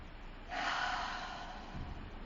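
One deep inhale taken during a yoga flow, a steady airy draw of breath rising near the mic and lasting about a second, with a faint soft sound after it.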